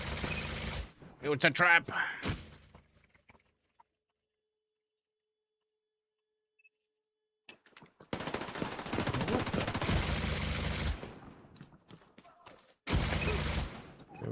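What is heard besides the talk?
turret and gunfire in The Division 2 video game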